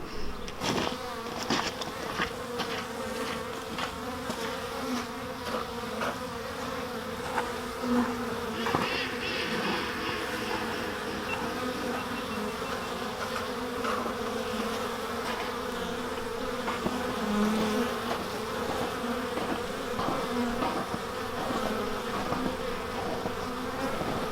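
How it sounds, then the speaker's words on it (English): Honeybees buzzing outside their hive on a cleansing flight as spring approaches, a continuous close, steady drone of many wings with no voices. "That's called the cleansing flight, and they'll get the hive cleaned up."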